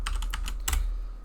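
Quick burst of computer keyboard typing, several crisp close keystrokes in a short run before a brief pause, with no voices present.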